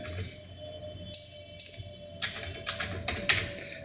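Keys on a computer keyboard clatter in short uneven bursts of taps, close and moderately quiet over a faint steady hum, without any talking.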